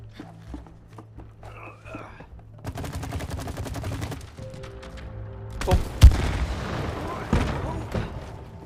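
A rapid burst of gunfire in the video game It Takes Two, fired at a target, followed by a few sharp impacts and booms. Game sounds and quiet voices run underneath.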